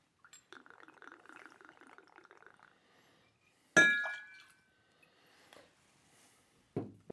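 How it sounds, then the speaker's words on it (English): Rittenhouse rye whiskey, 1.5 ounces, pours into a mixing glass with a soft, steady liquid trickle, followed by a sharp glassy clink and a later knock, all close and quiet, with no voices. "And our third and final ingredient going in there is Rye Whiskey."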